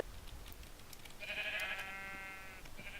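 A Minecraft sheep gives a single wavering bleat, clear and mid-distance, over a faint background.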